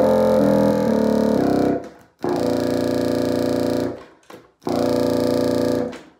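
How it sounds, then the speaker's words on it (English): A contrabassoon, the double-size bass of the bassoon family, sounds its lowest note, low B flat, in three long sustained blows separated by short breaths, the first wavering slightly in pitch, loud and close with no talking. "That's the lowest note, the low B flat, quite a bit lower."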